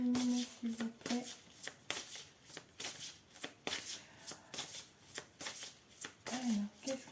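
Tarot or oracle cards being shuffled for a card reading, a steady run of crisp riffling and slapping bursts repeating throughout, close and fairly loud, with a voice speaking briefly at the start and near the end.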